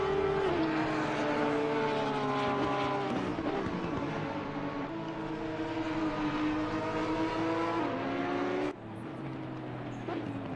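Race cars roar through the Assetto Corsa Competizione simulation at the Nürburgring, heading toward the final chicane with engines droning and shifting pitch. Several cars overlap, and the tone changes abruptly near the end. A commentator's voice likely sits underneath.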